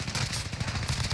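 Dense, rapid automatic gunfire fills a Call of Duty Warzone match, rattling continuously and loudly for just over a second with no talk over it.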